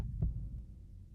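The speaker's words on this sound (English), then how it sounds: "Is that our heartbeat?" A single low, soft heartbeat thump inside a Grim Reaper dating game, set over a steady muffled hum.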